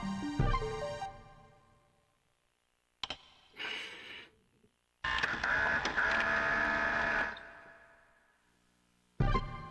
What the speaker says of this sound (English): Wait, it's a video printer?